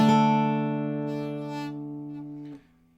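Single acoustic guitar chord with the index finger barring all strings near the seventh fret, struck once and left to ring and fade before being damped.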